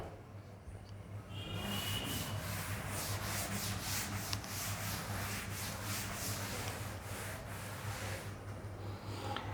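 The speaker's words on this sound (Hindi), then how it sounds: "मैं रब कर रहा हूँ बेटा ये वाला।" Writing is rubbed off a board during a mathematics lesson, a close, continuous scratchy scrubbing of repeated quick strokes lasting several seconds, with no talking over it.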